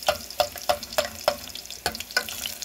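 Garlic frying in a pan while arroz caldo is being made, a steady sizzle broken by a series of sharp stirring clacks at a regular pace, close and moderately loud with no talking.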